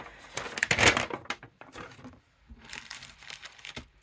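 A paper instruction sheet for a 1:87 HO scale M870A3 MHET trailer model kit being unfolded, close crinkling and crackling paper rustles in two bursts with a short quiet gap between them.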